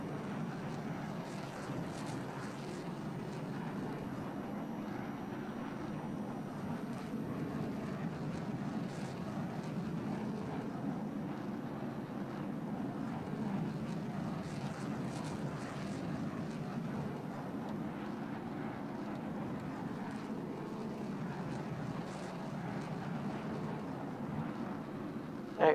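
Steady aircraft engine drone during a landing approach in Arma 3, a continuous even roar with faint wind-like hiss, unbroken throughout.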